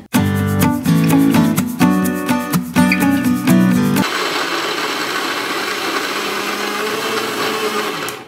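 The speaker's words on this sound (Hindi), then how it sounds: "अब हमें इसे मिक्सर में दर दरा पीस लेना है" A mixer grinder coarsely grinding walnuts starts with a loud, choppy whir for about four seconds, then settles into a steady, dense grinding roar until it cuts off.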